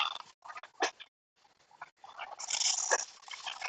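A dog heard close by in a quiet room, giving soft snuffling whines and small yips in short irregular bursts with a brief pause between them.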